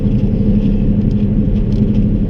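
A car accelerating on a snowy road, a steady low engine rumble close by with a soft rustling hiss of tires and snow, continuous and fairly loud.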